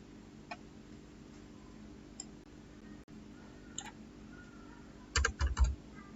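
Typing on a computer keyboard, with sparse, faint key clicks spread out at first, then a quick cluster of louder thumping presses near the end, like Enter keys being struck in succession in a quiet room.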